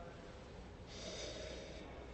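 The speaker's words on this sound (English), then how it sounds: "Give it a little sniffy sniff." A brief nasal sniff at a glass of crisp Sauvignon Blanc from the Loire Valley, a soft breathy inhale rising for about a second over a steady room hum.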